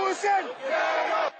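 A street crowd of protesters in Conakry, Guinea, shouts and yells together, a loud, close burst of massed voices that swells, dips briefly, then surges again before cutting off.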